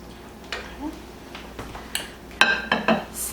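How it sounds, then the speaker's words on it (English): A ladle and bowl clink and tap while cheesy chicken enchilada soup is served up in a kitchen, several sharp irregular knocks and scrapes that cluster more densely toward the end, close by. "So now I'm going to serve us up a bowl."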